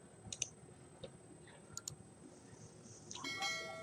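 Computer mouse clicks while setting up a new virtual machine in VMware, a few sharp isolated clicks spaced apart over quiet room hiss, ending with a brief chime.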